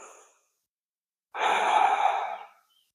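A single deep breath during a yoga side bend, the tail of one exhale fading out, a brief pause, then a long, airy breath about a second long, close and clear with no speech.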